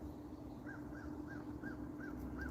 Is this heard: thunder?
no